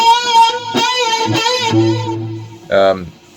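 A sustained electric guitar note with a slight upward bend nudged and released back to the 14th fret, wavering and settling, followed by a brief chord-like stab near the end.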